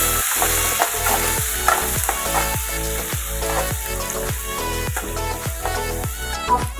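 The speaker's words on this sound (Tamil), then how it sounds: "போட்டு நல்லா வதக்கிக்கலாம்." Onions sizzle in a hot pan for poha upma while a spoon scrapes and stirs in quick, regular strokes, close and continuous.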